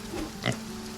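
A pig oinks once, a short grunting snort in the farming game Farm Together, heard over a soft steady background.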